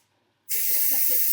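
After a quiet start, steam bursts loudly and steadily from the release valve of a Pressure King Pro pressure cooker, a close, sustained hiss that continues without letup.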